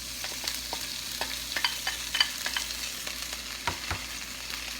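Scallions sautéing in a hot pan give off a steady close sizzle, with a few light stirring clicks and scrapes now and then.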